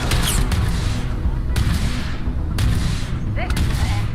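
Rapid gunfire in a shooter video game, bursts of shots cracking loudly and repeatedly over a busy mix, with a voice talking now and then.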